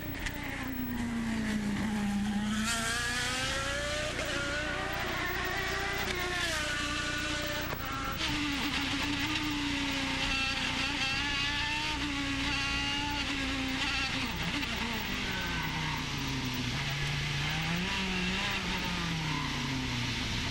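Loud, continuous onboard roar of Will Power's IndyCar race car on the Baltimore street circuit, its engine pitch rising and falling through gear shifts and corners with no pause for the full run.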